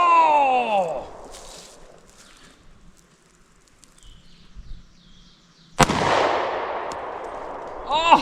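A sharp, loud gunshot cracks out at a hostage target near an off-grid cabin in Vermont, followed by a long ringing decay, with voices talking before and after.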